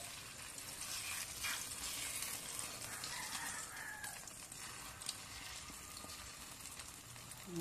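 An egg frying in a pan over an open fire, giving a steady, close sizzle and crackle that runs unbroken through the whole stretch with no voices.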